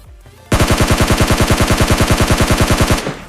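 Sustained automatic weapon fire in PUBG Mobile Lite, a loud rapid burst of evenly spaced shots lasting about two and a half seconds after a brief quiet lead-in, ending abruptly.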